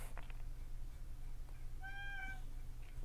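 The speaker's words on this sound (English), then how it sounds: "My chubby cat, who I've shown in other videos, is being whiny." A chubby pet cat whines for dinner with a single drawn-out meow in a quiet room, preceded by faint rustling.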